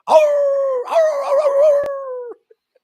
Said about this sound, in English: Smokey the dog over there going,